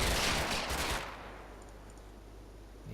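A loud burst of machine-gun fire in the WWII Normandy wargame Combat Mission: Battle For Normandy, about a second of rapid overlapping shots that then fades into quieter background rumble.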